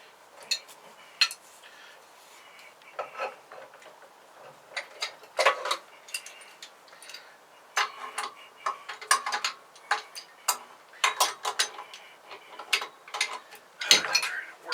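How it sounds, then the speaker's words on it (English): Metal wrenches clicking and ratcheting against pipe fittings during a boat refit, a scatter of sharp, close taps and clanks in irregular bursts with no talk. "I'm trying to work backwards with wrenches"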